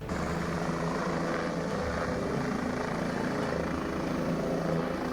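Helicopter bringing a groom and his wedding party to a village wedding in Jind, Haryana; a steady, continuous rotor and engine drone holds at an even level throughout, with no voices.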